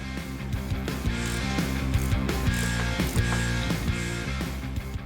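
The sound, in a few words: ratchet removing a bolt from a 1969 Charger engine mount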